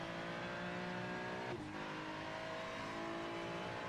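Onboard Ferrari race car in a sim racing game at Interlagos, its engine droning loud and steady at high revs with a brief dip as it shifts, then pulling hard again.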